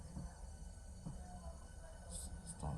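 A train departs Rochester on the London Cannon Street to Ramsgate route, heard from inside as a low steady rumble of wheels and carriage with faint squeals and knocks.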